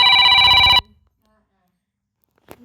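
A phone rings in the 100 Years Simulator video game, a loud burst of electronic trilling that cuts off abruptly, followed by near silence and a faint brief voice sound at the end.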